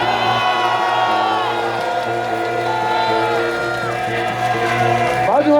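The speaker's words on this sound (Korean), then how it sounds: "여러분 크게 한번 고함 질러주십시오" A large crowd of patriotic citizens at an outdoor political rally shouts and cheers loudly together in a sustained roar, with whoops rising above it and a surge of voices at the end.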